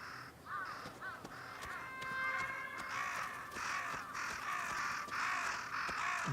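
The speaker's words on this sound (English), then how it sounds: "Lots of crows here." Several crows caw repeatedly in the Ghost of Yotei video game, harsh overlapping calls in a loose irregular rhythm, moderately close over soft ambient background.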